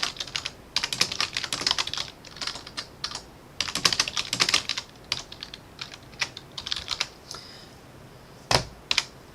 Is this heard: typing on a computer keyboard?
yes